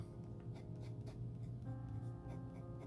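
Kakimori nib gliding over paper with orange ink: quiet, close scratchy strokes in short repeated bursts, with no talking.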